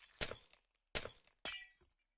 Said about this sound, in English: What we'll do now is we'll remove this glass.